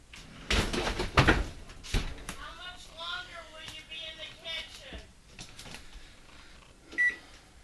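Kitchen oven door thumping shut after a tray of apple pie cookies goes in, a couple of loud clunks and rattles near the start, followed by a person talking and a brief later knock.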